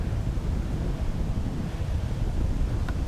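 Wind gusting across an outdoor disc golf course in Melbourne during a tournament round, a steady, loud, low rumble of buffeting air against the microphone that continues unbroken throughout.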